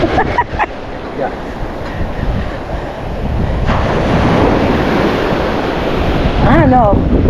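Ocean waves break and wash over the shore at Lido Beach, a steady broadband roar with wind buffeting the microphone, swelling louder in the second half, with faint voices in the background.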